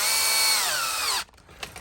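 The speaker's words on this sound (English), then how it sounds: "and then I start drilling" A drill bores a hole in Delrin, whining loud and steady before its pitch sags as the motor slows and stops, followed by quiet faint clicks.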